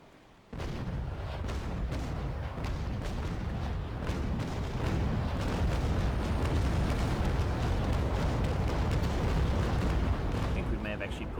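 Heavy cannon broadsides from sailing warships in Naval Action start abruptly and merge into a long, dense rumble of booming shots. The roar is loud and sustained, with sharper cracks scattered through it.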